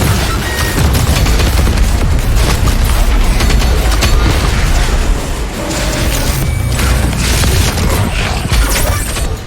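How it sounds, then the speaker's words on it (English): Rocket launcher fire and explosions in DOOM Eternal, a dense, loud barrage of booms and blasts rolling together with heavy low rumble, continuous for several seconds with no voice over it. "I should have the rocket launcher. I'll start using it."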